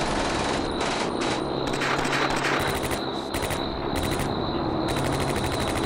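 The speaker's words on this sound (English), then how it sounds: "light arms firing here" Light arms gunfire in the World War II strategy game Combat Mission: Beyond Overlord, with sustained rapid bursts of machine-gun and rifle fire crackling continuously over a steady battlefield din, no voices present.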